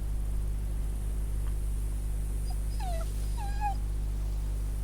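A dog in The Walking Dead game gives two short high whimpers in quick succession, fairly faint over a steady low background hum.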